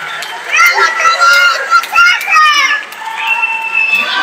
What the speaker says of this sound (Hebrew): הקהל של דורה מתעורר